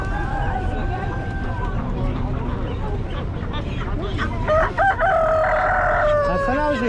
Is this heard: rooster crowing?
yes